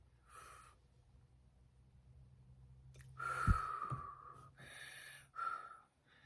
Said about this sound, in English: Breathe in, breathe out.